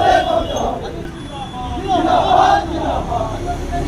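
Protesters from the Adivasi Disom Party shout together while surrounding Malda police station, a loud, dense crowd roar of overlapping voices rising and falling throughout, with traffic noise in the background.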